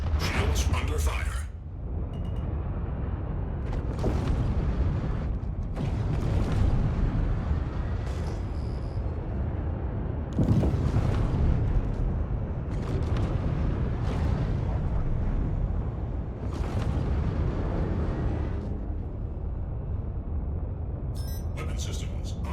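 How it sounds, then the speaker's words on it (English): A ship under fire in the space game Star Citizen: continuous rumbling roar with repeated heavy booming explosions and impacts, dense and loud throughout, with speech over it at times. "Shields under fire."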